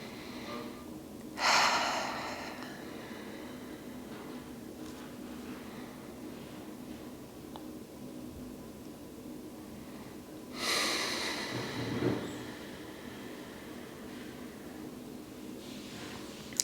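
Slow, deep yoga breathing cycles on a mat: a soft drawn inhale near two seconds, a long quiet stretch, then a fuller breath around eleven to twelve seconds, close and gentle over low room hiss.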